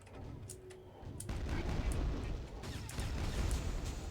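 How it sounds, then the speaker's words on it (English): Repeated missile fire booming in the background of a Quake 2 level, with rumbling, overlapping blasts and explosions that build and roll on after a quieter opening. "I still don't know what's so angry in the background, just shooting missiles over and over."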